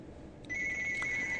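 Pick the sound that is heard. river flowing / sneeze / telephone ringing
telephone ringing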